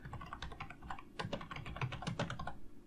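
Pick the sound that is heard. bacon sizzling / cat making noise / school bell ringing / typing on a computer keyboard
typing on a computer keyboard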